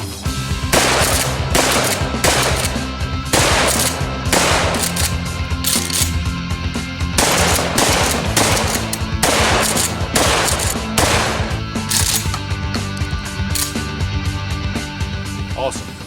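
A Remington 870 pump shotgun fires a rapid string of loud, close blasts, roughly a dozen shots in a fairly regular rhythm with brief gaps between them.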